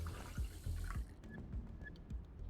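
Water poured from a container in the video game Lacuna, a soft close trickle and splashing under quiet low ambient tones, with a few faint clinks afterward.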